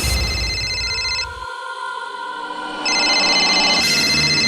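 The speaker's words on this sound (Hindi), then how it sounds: "उठा ले, उठा ले। तेरे जिगरी दोस्त करण का ही फोन होगा। उठा ले।" A mobile phone rings in a tense police-interrogation scene, its bright electronic tone sounding in two bursts with a brief pause between, loud and close, with no talk over it.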